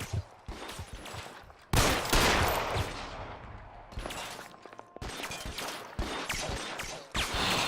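Rapid gunfire from an L.A. Noire shootout, with dense bursts of shots and sharp cracks in clusters close by and loud across the whole stretch, and no talk.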